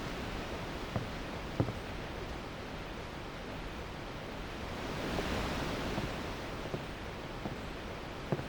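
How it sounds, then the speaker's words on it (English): Steady broadband wind blowing in Final Fantasy X, a continuous even rush that swells slightly midway, with faint scattered ticks and no voices. "The wind."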